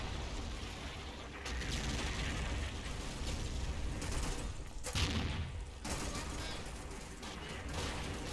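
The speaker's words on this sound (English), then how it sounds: "I'm coming under heavy artillery fire" Heavy artillery fire and gunfire from the Combat Mission wargame at Monte Cassino: a continuous dense barrage of distant blasts and crackling shots with a few sharper bursts, steady and loud throughout, with no talk.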